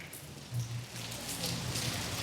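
Steady rain falling at night, a continuous soft hiss of drops on surfaces with no voices, even and moderately loud throughout.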